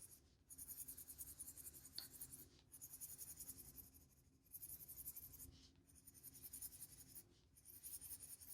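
Sharp colored pencil strokes scratching steadily across paper in a coloring book, with light pressure, a continuous close-up rubbing hiss broken into bursts by brief pauses between strokes.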